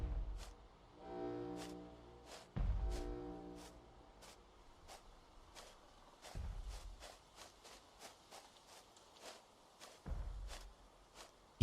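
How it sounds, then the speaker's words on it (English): In the Sirenhead horror game, huge monster footsteps land as deep, booming stomps a few seconds apart, while lighter rhythmic steps tick steadily between them. "Keep hearing large stompies."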